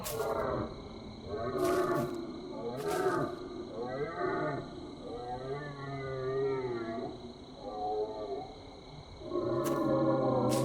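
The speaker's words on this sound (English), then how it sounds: "Sounds like an elk somewhere. An elk in pain, perhaps." A pained elk crying out in a cursed forest video game, a series of drawn-out, wavering moaning calls in bursts, fairly loud and close over a steady ambient hum.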